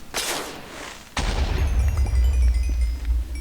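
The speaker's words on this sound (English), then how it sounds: "I don't know why I just heard an explosion" An explosion in the Minecraft video game bursts loudly at the start, then a second heavy blast hits and rumbles on with a deep, sustained roar and scattered crackles.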